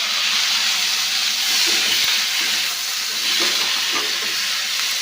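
Chopped tomato hits a hot pan for okra pulusu, giving a steady, loud hiss and sizzle with soft crackles throughout, close and without talk.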